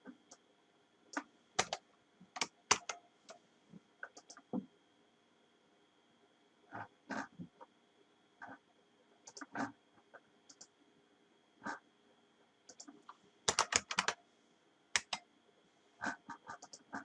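Scattered, irregular clicks and taps of typing on a computer keyboard, with faint, quiet keystrokes arriving in small bursts separated by pauses.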